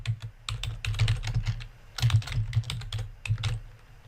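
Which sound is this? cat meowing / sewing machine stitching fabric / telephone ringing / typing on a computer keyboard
typing on a computer keyboard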